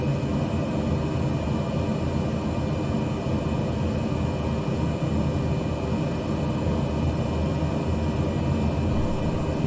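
Aircraft engine drones steadily on a landing approach in Microsoft Flight Simulator 2020, a constant broadband hum with faint tonal whine and no change in pitch, heard alone.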